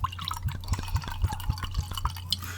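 Wine poured into a glass, a close run of rhythmic glugging drips and splashes with liquid sloshing, repeating roughly every quarter second at moderate loudness, with no talking.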